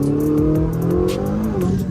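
A Ferrari engine blips and revs hard through a downshift, loud and close, with rising and falling bursts crackling over a steady low drone.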